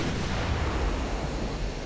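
Naval gunfire from warships in the Ultimate Admiral: Dreadnoughts game, pocket battleships against a destroyer fleet, heard as a dense, continuous rumble of cannon blasts and booms with no distinct pauses and no talk.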